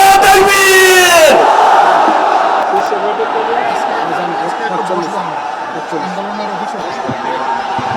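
A huge outdoor political rally crowd at Paltan roars in response to a takbir chant, with a loud massed shout at first that fades into sustained crowd murmur and scattered voices.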